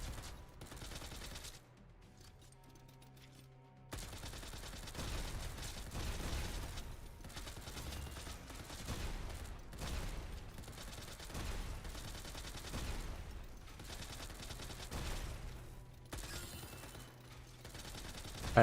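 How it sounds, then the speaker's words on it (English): Sustained gunfire from the video game Girls Frontline 2: Exilium, dense rapid bursts of shots running almost continuously, with a brief lull near the start and another later, loud and close. "I have infinite ammo now, just keep shooting."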